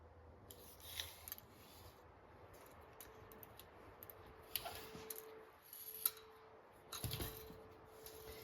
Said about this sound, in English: I'm going to go ahead and cut the lining piece first